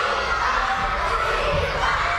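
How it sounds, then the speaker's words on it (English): Elementary school children at lunchtime scream and cheer in a crowded room, a dense, loud, continuous roar of young voices that does not let up. "screams at the top of their little lungs"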